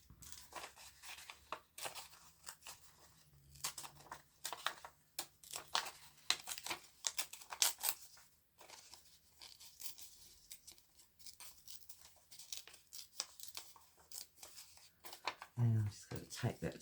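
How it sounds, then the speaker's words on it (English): Paper is torn by hand to pull out a rose picture for a junk journal, giving a series of short ripping and crinkling bursts, near and quiet, with someone talking between them. "I'm just tearing out the picture"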